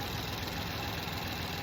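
A Ford EcoBoost car engine idles steadily after a wet belt repair, a close, even, continuous hum with a faint rhythmic knock and no talking.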